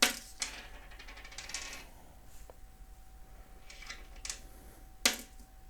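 Dice rolled on a tabletop during a game of Warhammer 40K: several short clattering bursts of dice tumbling and knocking, close and fairly quiet, with a steady faint hum in between.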